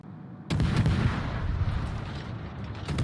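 A heavy naval artillery salvo booms in World of Warships, a sudden loud blast that rolls into a long rumbling roar, followed by another sharp report near the end.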